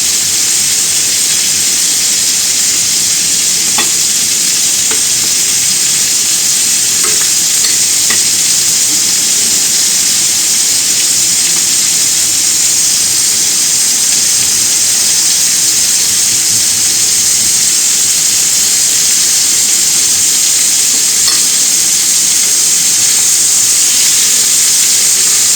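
Veal roulades sizzle and fry in a pan, a loud, constant hiss of hot fat and steam with faint scrapes and small clicks as they are turned.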